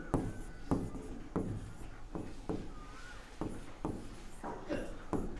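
Pen strokes on paper as a sentence is written out by hand, a steady scratching rhythm of short repeated strokes close by, with a faint murmur of room noise underneath.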